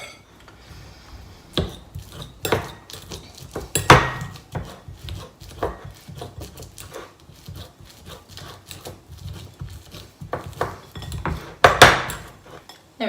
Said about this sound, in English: So we're just going to pop them in a dish and mash them up.